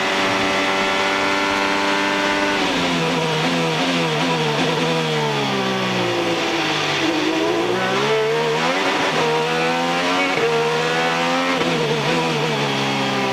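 Graham Rahal's IndyCar screams around the Toronto street circuit from onboard, a loud, continuous high-revving engine that rises and dips through gear changes and braking, steady and close throughout without voices.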